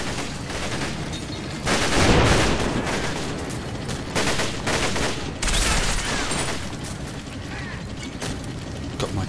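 Machine gun and tank fire in the Combat Mission wargame, a heavy continuous clatter of automatic bursts with louder booming surges, close and dense, with no talking.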